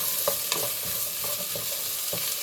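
Ground meat, 80% lean, frying in its own grease in a pan while being stirred, a constant close sizzle with repeated scraping stirs roughly every half second, no voices.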